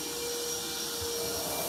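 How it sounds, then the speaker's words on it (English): A Hoover vacuum cleaner pushed into a plug hole in a pipe, giving a continuous loud whirring roar with a steady tonal whine and no break across the short stretch. "he just gets a Hoover and he's trying to stick the Hoover in the plug"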